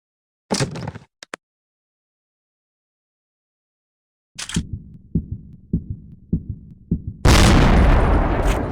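Sharp gunshots from a hunting sniper game ring out: one loud report near the start, a second around the middle, then several quick cracking shots in a row, ending in a dense roaring burst.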